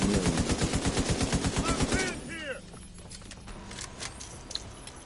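M60 machine gun firing a rapid sustained burst in The Division 2, loud and close for about two seconds before cutting off, followed by a few metallic clinks and a quieter background.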